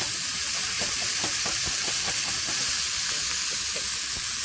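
Steak and asparagus sizzle steadily in olive oil in a hot pan, a loud continuous frying hiss with faint scattered pops and scrapes underneath, no one speaking.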